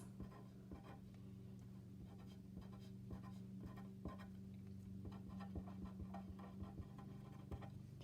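Pen or pencil strokes on paper while electron configuration orbital lines are drawn, with quiet repeated scratching taps in an irregular rhythm, close and faint, with no talking.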